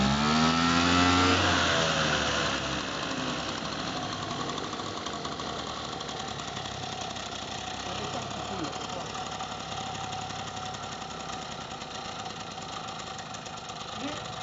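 A moped engine idling steadily after a carburetor adjustment, a loud, even, rattling putter that starts with a brief rev and then holds close and constant, with quiet talk underneath.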